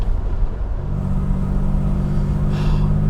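Aston Martin DB6 classic car engine running while driving, a steady low rumbling drone held throughout with a brief brighter whir near the end.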